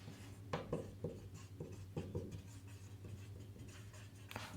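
Marker or chalk tapping and scraping on a board as a list of food nutrients is written out, a series of short, fairly faint strokes at close range over a low hum, with no speech.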